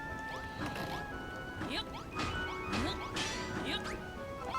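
Giant mallet smashing blocks in Dragon Quest Builders 2, a series of loud crashing whacks and crumbling breaks repeating every second or so over game music.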